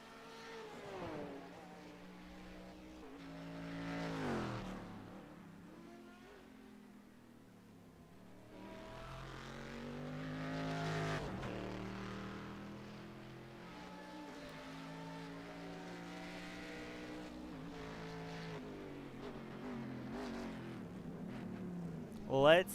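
Race cars, including a Corvette, in a Legacy Sports Car Series round at Montreal, weaving between walls by the waterfront: engine whines rise and fall as cars accelerate, shift and pass in overlapping waves, with a steady din between surges.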